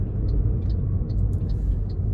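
A car pulling into a car park, its low steady engine rumble and road noise filling the cabin evenly, with faint small ticks and clicks above.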